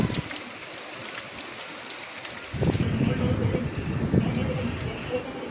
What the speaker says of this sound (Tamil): ஒரு 6:30 போல் வந்து நல்லா மழை பெய்ய ஆரம்பிச்சிச்சு.